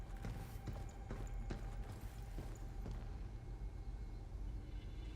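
Footsteps of the player character Hugh echo through a tall, vertical room in the video game Pragmata, with irregular soft thuds and taps over a steady low ambient rumble.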